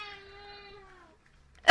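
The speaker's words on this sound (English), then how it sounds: "A little interjection from the cat." A cat lets out a single drawn-out meow, clear and fairly close, fading away before a brief louder bump at the very end.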